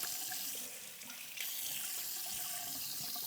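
A bathroom sink tap runs steadily while someone rinses their face, a close, continuous hiss of water with a brief splashy dip near the start.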